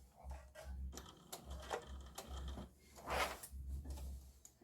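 A sewing machine stitches an apron and runs briefly in reverse to backstitch, giving a steady mechanical whir with short pauses and restarts at close range.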